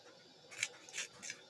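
Cauliflower, flat beans and potatoes are chopped for a curry in a home kitchen: three quiet, crisp cuts, close by and evenly spaced, with no talking.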